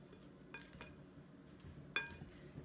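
Leftover challah croutons are tossed with garlic, black pepper and salt in a bowl, giving faint, scattered clinks and scrapes of a utensil against the dish in quiet surroundings.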